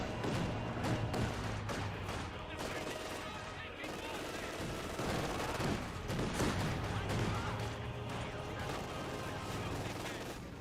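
A squad's rifles and machine guns in the Company of Heroes 2 video game fire in dense overlapping bursts, loud and continuous, with thuds of other combat mixed into a busy battle din.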